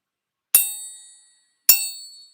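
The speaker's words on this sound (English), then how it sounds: "gently tap the spoon in different places, see what sounds we get." Two gentle taps of a spoon against objects, each a bright metallic ding that rings and slowly fades, spaced about a second apart in an otherwise silent room.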